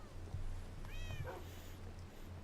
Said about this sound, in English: Listen to those cats go.